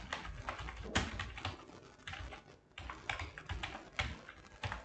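Typing on a computer keyboard while writing PHP Laravel code, a run of close, quick key clicks in uneven bursts with brief pauses between, fairly soft and without speech.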